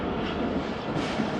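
Jaffar Express train moving past Attock Khurd railway station on the Peshawar-to-Lahore run. Wheels give a steady low rumble, heard from inside the carriage, continuous and moderately loud, with no speech.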